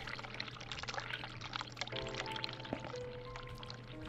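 Hot water running from a tap in the video game The Cat Lady, a steady pouring splash of water that continues throughout, fairly faint, with a few soft clinks and tones over it.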